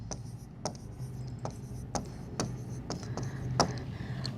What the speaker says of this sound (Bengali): এটা আমি লিখছি